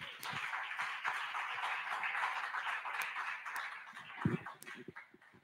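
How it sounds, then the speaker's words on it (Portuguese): A church congregation applauds during a service, a dense wash of many hands clapping at a moderate distance for several seconds before it thins out into a few scattered claps. "Aplaudamos esse Deus."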